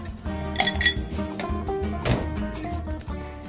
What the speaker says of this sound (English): let's get our frozen rocks glass from the freezer